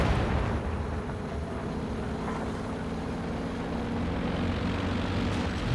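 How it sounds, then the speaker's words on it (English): An aircraft flies in over a Company of Heroes 2 battlefield, a loud continuous roar with deep rumbling underneath that holds steady throughout. "Plane in now for Rod."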